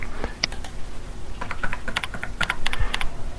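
Fingers tap out a password on a computer keyboard, the keystrokes coming in quick uneven bursts with short pauses, close and clear with no talking.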